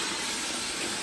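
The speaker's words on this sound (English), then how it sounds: "the steam will help relax the paper a little bit so that it sort of dries flat." Steady, close hiss of steam being played onto old wallpaper to relax the paper, a continuous broadband rush with no pauses.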